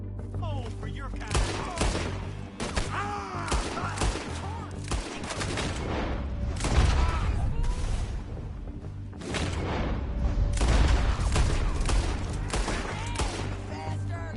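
Gunshots crack in a Red Dead Redemption 2 shootout, repeated sharp bursts and booming reports in irregular clusters, loud and close, with shouted voices breaking in between the volleys.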